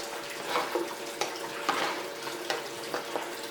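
Water poured from a cup into a gold pan, splashing and trickling in a few uneven surges, close and moderately loud with no voice over it.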